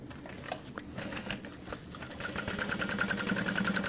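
A sewing machine top-stitches the leather lining of a Sarah Bag convertible backpack, its motor building from scattered stitches into a fast, steady, close-up whirring chatter.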